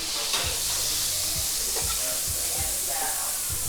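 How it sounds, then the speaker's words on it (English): Butter hits a hot skillet and sizzles loudly and steadily. Bursts of crackling and scraping from stirring break through the hiss, and a voice speaks faintly in the background. "So this is your hot skillet. We're gonna throw some butter up in there."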